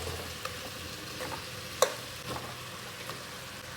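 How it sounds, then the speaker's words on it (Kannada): Chopped radish, potato and beans go into a hot pan together and are stirred, giving a faint, steady sizzle with a few soft scrapes and one sharp clink, and no voices. "ನೋಡಿ, ಮೂಲಂಗಿ, ಆಲೂಗೆಡ್ಡೆ, ಬೀನ್ಸ್ ಎಲ್ಲನೂ ಒಟ್ಟಿಗೆ ಹಾಕ್ತಾ ಇದ್ದೀನಿ"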